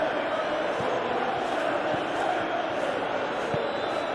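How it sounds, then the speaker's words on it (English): Stadium crowd noise in a Chelsea versus Manchester United Premier League football video game, a steady, dense roar of applause and murmur filling the whole stretch without pause, broad and even, with faint thuds underneath. "Crowd appreciates good football all round there"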